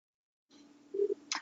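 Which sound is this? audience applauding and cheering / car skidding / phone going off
phone going off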